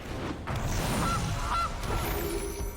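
Goose honks from a Gilded Goose card being played in the MTG Arena digital card game, two short honks in the middle over a steady, busy background of game sound.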